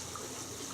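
The Our River on the Germany–Luxembourg border runs with a soft, steady rush and trickle of water, heard alone with no talking.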